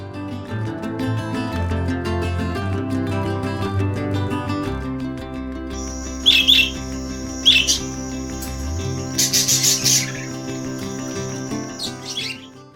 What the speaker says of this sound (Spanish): bandadas de guacamayos de colores intensos comienzan a descender sobre los acantilados